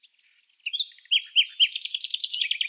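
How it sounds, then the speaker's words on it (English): A tiny white-crowned desert bird sings under a blazing sun, a run of bright, high chirps and quick trills that speed into a dense warbling stream toward the end, close and clear with nothing else around it. "a tiny bird with a white crown is singing like it owns the world"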